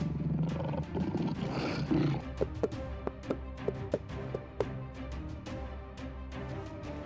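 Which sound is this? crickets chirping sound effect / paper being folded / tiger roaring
tiger roaring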